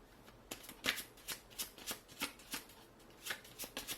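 Tarot cards are slid and shuffled by hand, a series of about a dozen crisp, close riffling swishes in an uneven rhythm, with no talking.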